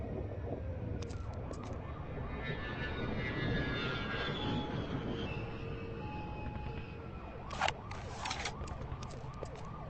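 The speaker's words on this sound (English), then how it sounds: "Drones. They're advancing faster than we anticipated." Alien drones in the video game The Conduit approach with a droning, whooshing engine roar that swells and fades over several seconds, layered with game effects and brief sharp metallic bursts near the end.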